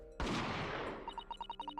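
A single loud gunshot sound effect in the video game The Great Ace Attorney 2, a sharp crack with a long fading rumble, followed by a rapid series of quick, evenly spaced beeping text blips.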